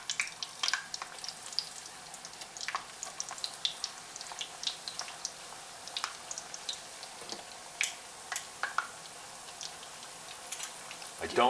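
Tortillas frying three at a time in hot oil on a stovetop over medium-high heat, giving a steady sizzle dotted with sharp, scattered crackles and pops close by, with no talking.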